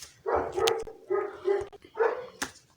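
A dog barks repeatedly in a run of loud, close, tonal barks with short gaps between them, and no talk over it.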